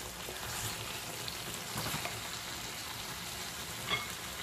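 Tomato puree with chicken and whole spices fries quietly in a pan, a soft, steady sizzle broken by occasional scraping stirs and one small clack near the end, with no talk.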